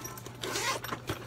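Zipper pulled along a makeup bag with two zippers, a short scratchy run of rustling teeth, close and quiet, with no talking.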